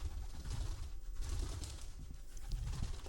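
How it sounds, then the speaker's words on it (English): Pigeons cooing in a dark, ruined video game park, soft low throaty coos repeating under a faint ambient hum, close and alone without speech. "Pigeons!"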